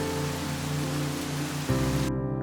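Rain falls in a steady, dense wash of hiss. A low hum runs beneath it, and the sound changes abruptly near the end.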